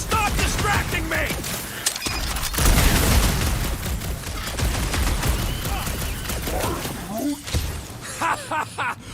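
Dense bursts of rapid gunfire from combat in the Guardians of the Galaxy video game, loud and sustained with booms and mechanical clatter, mixed with character voices talking over the fight.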